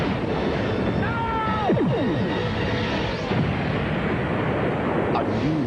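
Star Trek Voyager photon torpedoes firing, with sweeping tonal whooshes followed by heavy rumbling blasts under a continuous dense roar, close and loud across the whole stretch.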